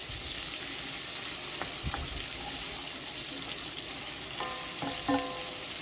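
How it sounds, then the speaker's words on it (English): Onions and mushrooms frying in a pan on medium-high heat, a steady loud sizzle with occasional clinks and scraping stirs, close up and without talk. "I'm going to go ahead and throw in some of my onions and mushrooms. I have it on medium-high heat."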